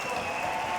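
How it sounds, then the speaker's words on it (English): A crowd at the Rainbow Six Pro League Season 9 Finals roars in a steady, loud wash of cheering and applause, with no single voice standing out. "Well, you hear the crowd roaring."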